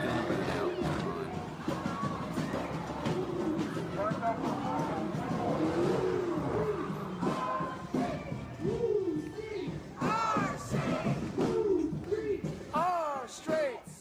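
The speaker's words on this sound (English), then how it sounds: "somebody's just doing a burnout" A car does a burnout at a street protest, its engine revving hard and roaring continuously under loud crowd voices and shouting.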